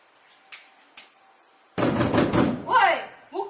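Fists bang on a closed bedroom door: two light knocks come first, then a loud, sustained burst of heavy pounding and rattling. Raised voices shout over and after the banging.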